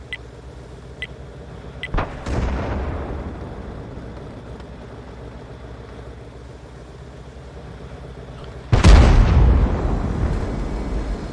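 Hellcat tank destroyer firing its gun among buildings in World of Tanks, a sharp shot at about two seconds and a heavier booming blast near nine seconds over a steady engine rumble, no talking.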